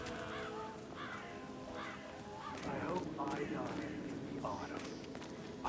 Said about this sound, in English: I'll never get rid of those stupid birds.